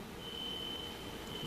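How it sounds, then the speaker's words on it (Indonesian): An alarm sounds inside a church, a thin steady high tone holding over a continuous noisy room background for the whole moment. "Ini bunyi alarm atau apa ya?"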